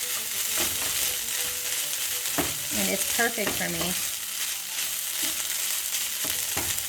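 Seasoned vegetarian mince fries in a pan into crispy bits, a steady close sizzle with occasional scraping stirs while someone speaks briefly over it.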